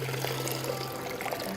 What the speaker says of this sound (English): I simply drain the water off by inverting the jar